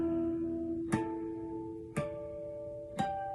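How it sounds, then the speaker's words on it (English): Guitar harmonics rung out one at a time at the 5th fret, three bright bell-like chimes about a second apart, each ringing over the sustain of the last, close and clear. "let's go ahead and do some harmonics. We're just going to climb up and down the 5th fret"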